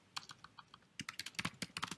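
Keys clack on a computer keyboard as text is typed, light scattered taps giving way to a quicker, denser burst of keystrokes, close and clear with no talking.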